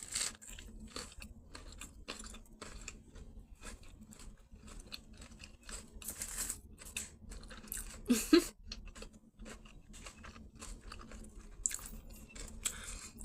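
Fried cauliflower mock fish sandwich with cucumber, lettuce, tomato, onion and Italian dressing being eaten: close, repeated crunchy bites and wet chewing in irregular bursts, with a louder crunch midway and quiet pauses between.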